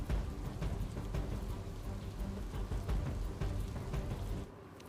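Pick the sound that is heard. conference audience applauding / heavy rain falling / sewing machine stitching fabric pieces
heavy rain falling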